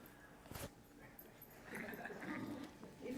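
Simon the dog gives a few soft, faint whimpers, close by in a quiet room, with short whiny yips spread across the moment.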